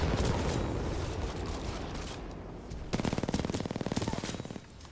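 R-97 submachine gun hip firing in Titanfall 2, with a rapid, evenly spaced stream of loud shots over about two seconds following a stretch of dense combat noise and gunfire.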